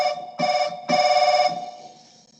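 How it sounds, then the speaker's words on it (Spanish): An old mobile phone ringtone plays two bright electronic chiming bursts in quick succession, then fades with a trailing ring, clear and alone. "Me hace acordar esos sonidos que tenían viejitos los celulares"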